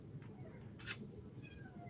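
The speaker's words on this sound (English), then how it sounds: "we got V, our other kitten here, being a little vocal" A pet kitten gives a short, fairly faint meow over a steady low background hum, with a brief rustle just before it.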